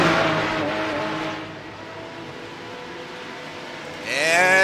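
Porsche Cup race cars lapping Mount Panorama. A high, buzzing engine note rises in pitch through the gears, dips as a car passes, then a second car screams in loud and close at the end.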